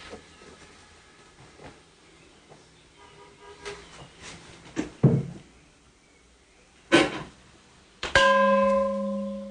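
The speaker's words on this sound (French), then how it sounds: "Il est chargé de faire sonner le gong rituel qui aide les pèlerins à se concentrer lors de la prière." A monk strikes a ritual gong in a Wudangshan mountain shrine. Scattered faint knocks come first, then a few sharp strikes, and a final clear metallic blow rings on with a sustained humming tone.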